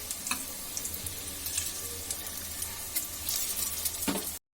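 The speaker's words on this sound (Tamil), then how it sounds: "ஸோ பஃப் வந்துட்டு இந்த மாதிரி ரோஸ்ட் ஆகும்." Egg puff frying in oil in a pan, a steady close sizzle and crackle with occasional sharper pops, alone with no talk.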